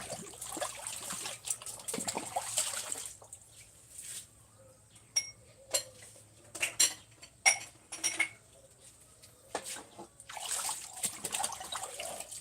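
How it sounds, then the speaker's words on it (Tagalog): Plates and cutlery clink and knock against each other in running water during dishwashing, with irregular sharp clatters over a steady trickle and no one talking. "Hugas plato na ako"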